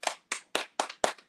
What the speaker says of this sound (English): Claps to that.